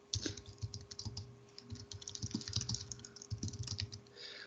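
Steady typing on a computer keyboard, a continuous patter of close, soft key presses with irregular rhythm and no speech.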